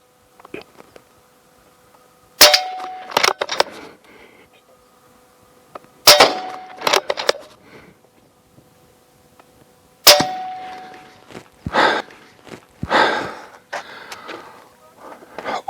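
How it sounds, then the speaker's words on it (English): Pellets from a Nova Vista PCP 1000 air rifle striking a metal target, sharp ringing clangs arriving in small clusters with quiet gaps between, close and loud with no talking. "It's one accurate little gun. I truly do enjoy this little air rifle."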